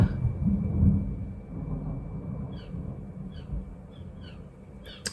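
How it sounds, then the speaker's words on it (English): Distant thunder rolls as a low, drawn-out rumble that slowly fades, with a few faint bird chirps scattered over the top and no talk. "Did you hear that lightning?"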